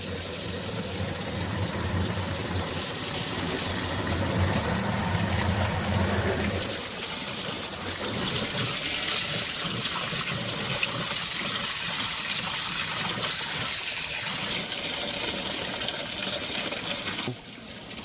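Water gushes steadily from a hose into a washing machine tub for a long stretch, loud and continuous, with the tone of the rushing stream shifting partway through as the tub fills.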